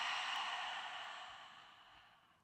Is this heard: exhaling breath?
yes